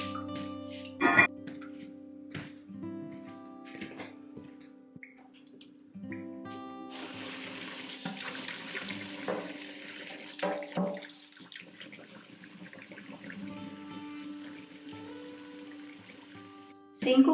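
Tap water runs and splashes into a steel sink during cleaning, in intermittent bursts with drips and clinks in between, close by.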